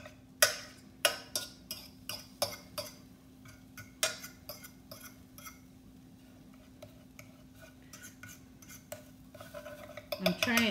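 A utensil stirs and scrapes sauce around a pan in a run of sharp metallic clicks and taps, quick at first then sparser, quiet and close, over a low steady hum.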